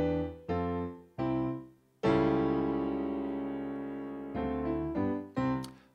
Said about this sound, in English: if I were to raise that C to a C sharp, it would sound like this.